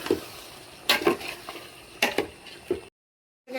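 Boiled chicken being stirred in a pot for chicken dum biryani, with a few scraping, sloshing strokes at an irregular pace and a soft sizzle beneath, ending in a short silence.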